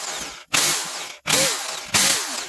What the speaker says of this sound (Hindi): तो मैं इसी ड्रिल मशीन से इसको साफ करता हूँ।